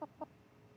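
A big hen with a massively swollen crop, weighing about 2.47 kilograms at a vet check, gives three short, close clucks, the last a little apart from the first two, with no talk over them.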